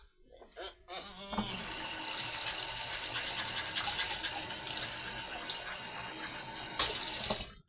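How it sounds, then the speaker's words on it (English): Kitchen water tap runs in a steady, hissing stream after a few short bumps and clicks at the start, with a speaking voice over the flow. "It's a terrible habit of mine to turn the water on after the video has started."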